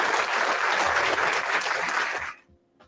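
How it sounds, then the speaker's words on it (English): Applause and cheering from a crowd fill the air steadily for about two seconds, then cut off abruptly into near silence. "let's give a round of applause to Santana, Rihanna."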